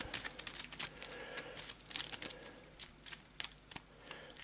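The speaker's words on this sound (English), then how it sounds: "it is quite easy to shuffle them together and get a good shuffle. They just slide past each other." A deck of Arkham Horror LCG playing cards is riffled and shuffled together, a dense run of papery flutters and snaps rising and falling in quick bursts, close and fairly quiet.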